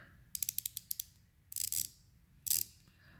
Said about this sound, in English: I got this to replace my horrible freight one. I got one of the icon ratchets